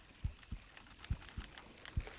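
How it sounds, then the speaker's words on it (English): Trophy-fish heartbeat cue from Bassmaster Fishing 2022: five soft, deep thumps at an even rhythm of roughly two per second, faint and alone with a quiet hiss underneath. "And I got something with a trophy heartbeat on it."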